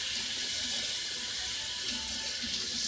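Kefir for yogurt pours at a sink in a steady, soft hissing stream with faint watery trickle underneath, continuous and close but quiet, with no voices.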